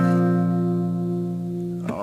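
A single guitar note, fretted with the ring finger at the tenth fret of the fourth string in a riff, rings out sustained and clear, then is cut off by a brief scrape near the end.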